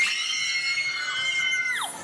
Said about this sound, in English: Women screamed.